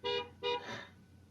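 Two short car horn honks sound in quick succession in a parking lot where a mass of birds is in the way, followed by a fainter rising engine or tyre sound.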